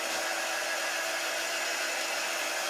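A hair dryer blows steadily and loudly at close range to dry paint on a two-sided paper autumn cutout, a continuous, even whoosh with no pauses.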